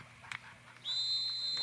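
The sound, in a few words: referee's whistle at a boys lacrosse game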